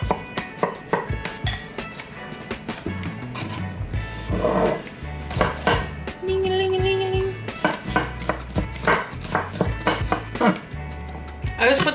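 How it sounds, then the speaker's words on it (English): Knife chopping cucumber on a small cutting board set on a larger board, a run of quick uneven thuds and clacks with some dish clinks, under a voice talking. "I'm just gonna chop them"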